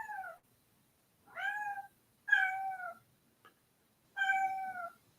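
A house cat meows four times, each a drawn-out, falling cry with short gaps between, fairly close and clear in an otherwise quiet room with no talking.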